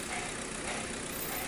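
A Proton Persona car engine running steadily at idle, a continuous broadband rumble heard close and alone, with no talk.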